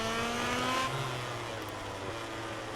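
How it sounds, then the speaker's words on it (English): Yamaha MotoGP motorcycle in the MotoGP 18 video game, a steady high-pitched engine drone held near and loud throughout, with pitch shifting slightly as it runs on without a break. "I can hear him. I can hear that Yamaha."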